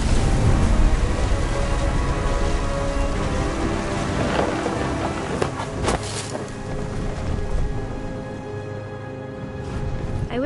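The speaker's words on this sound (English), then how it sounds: "Thunder sounded much too close and full of angry power." Heavy rain pours steadily during a thunderstorm in the video game What Remains of Edith Finch, with deep rolling thunder rumbling close and loud across the whole stretch.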